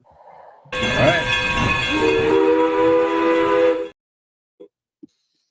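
A loud train sound effect bursts in suddenly, a roaring rail rumble with a steady horn-like tone, then cuts off abruptly, followed by silence and two faint clicks.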